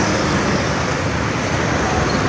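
Steady, loud wash of engine and road noise at the Bukittinggi bus terminal, with buses idling and moving close by in a continuous broadband rumble, no voices.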